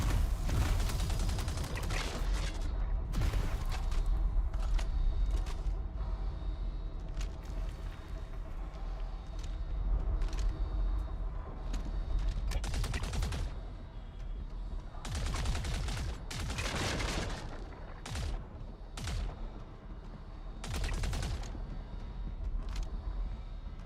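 Repeated gunfire from an enemy NPC sniping in a video game, sharp shots cracking in irregular bursts over a steady game background, some close and loud, others further off.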